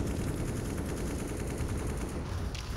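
Gunfire during a CS:GO esports match, a dense, sustained barrage of shots filling the clip at steady loudness with no voices, one shot echoing out near the end.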